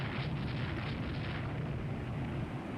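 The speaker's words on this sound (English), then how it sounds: "They're being hit with a fair few heavy guns now. More 11-inch guns hit on this ship." Heavy 11-inch naval gun shells striking a warship in a naval strategy video game, heard as a continuous loud, dense rumbling roar of explosions with no clear pauses.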